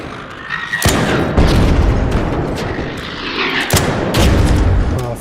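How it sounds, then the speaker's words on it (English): A bombardier missile shot down in the Arc Raiders video game: several heavy, booming blasts, loud and close, set against a constant rumbling battle din. "you can shoot bombardier missiles out of the sky"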